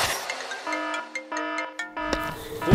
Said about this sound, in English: I think our phones are ringing.